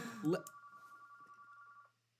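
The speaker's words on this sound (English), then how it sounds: "So, we got phone ringing." A telephone rings with one steady, thin electronic tone that holds for over a second and then stops, and a brief voice is heard just before it.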